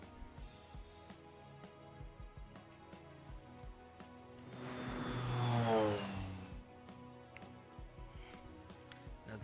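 In the World War II strategy game Panzer General, an airplane engine drone swells up from a quiet background, peaks midway and fades again.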